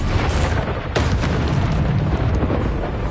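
The Bombarda explosion spell in Hogwarts Legacy, a video game, fires off a sharp burst near the one-second mark. A continuous low roar sits beneath the blast, with fainter pops layered in the background.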